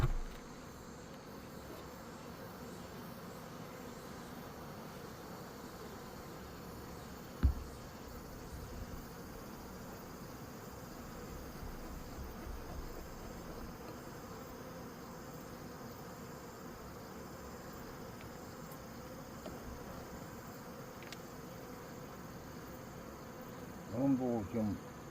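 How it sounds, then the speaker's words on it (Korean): Honeybees packed densely on the combs of a hive in late summer give a steady, low, continuous hum, with a single sharp knock partway through and some brief handling noise near the end. "지금 벌이 빽빽하게 붙어 있으니까"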